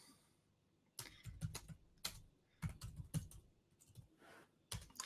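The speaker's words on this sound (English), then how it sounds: "if I click in here, and then I type my question" Close, crisp keystrokes on a computer keyboard typing a short question, arriving in several quick bursts separated by brief pauses, with no talking.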